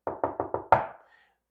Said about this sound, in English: If you knock on somebody's door